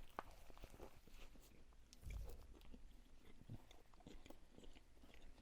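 Someone bites into a KFC fish sandwich with dry bread, producing a soft crunch and close-up chewing sounds amid quiet room noise, with no talking.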